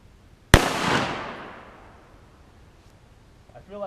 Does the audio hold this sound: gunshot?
yes